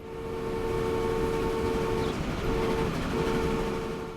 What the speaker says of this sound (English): Coal trains everywhere.